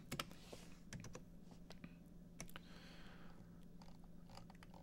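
Rapid, uneven clicking of fingers typing on a computer keyboard, with close, crisp keystrokes in bursts and short pauses, quiet and with no talking.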